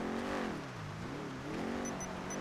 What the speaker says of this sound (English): There was a black fucking SUV looking thing driving past